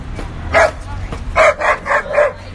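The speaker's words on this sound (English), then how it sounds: "He's barking at the skateboard." A dog barks at a skateboard: one close, sharp bark, then a quick run of three or four loud barks with low growling between them.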